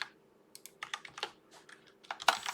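Someone types on a computer keyboard in quick, irregular bursts of close, crisp key clicks, with short pauses between the groups of strokes.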